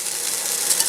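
Chopped vegetables and aromatics tumble into a pot with browned beef for stew, giving a dense, bright sizzle and rattling stir that fills the short moment up close.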